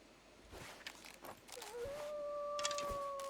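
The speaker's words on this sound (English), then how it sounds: "I do hear another wolf out there" A wolf howls in the video game The Long Dark, a thin, rising, sustained tone in the distance over footsteps and soft ambient noise.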